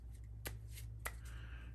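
A deck of board game cards gets a quick side shuffle, a couple of crisp papery snaps over a low steady background hum.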